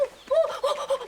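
Baby chicks on a farm near Heyri art village give high, thin peeps in short bursts, several in a quick run, close and fairly loud with no talk.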